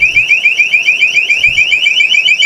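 A loud, close electronic warble from a motion detector alarm going off inside an abandoned house, its rapid oscillating siren tone repeating steadily with faint low thumps beneath.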